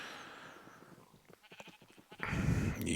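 A Minecraft sheep bleats a few times in a hardcore vanilla survival game, short nasal calls followed by a louder burst of game noise, with no talking.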